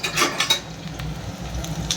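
Chopped garlic dropped onto cumin in a hot pan for an eggplant bharta, with a soft sizzle under scraping and clinks of a utensil against the pan, steady and close.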